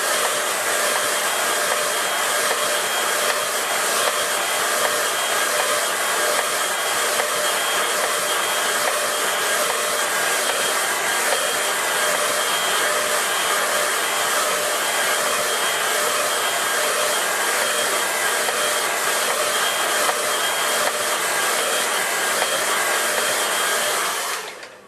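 A hair dryer runs steadily and loudly for the whole stretch, drying a watercolour landscape painting, with a constant whooshing roar and no talk, cutting off sharply at the very end.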